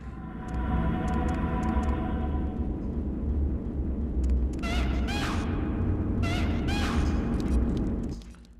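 A platform rises in a Fire Temple stage of Zelda: Ocarina of Time Master Quest, giving a sustained low mechanical rumble with faint ticking, crossed by two bursts of brighter chiming tones before stopping abruptly.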